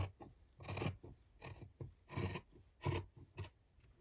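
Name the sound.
cutting material along a line for a slow stitch journal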